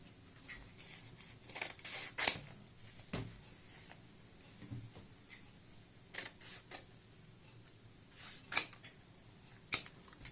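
Scissors cutting fabric to shape a neckline, scattered sharp snips and crisp blade clicks spaced irregularly over a quiet background, close and distinct.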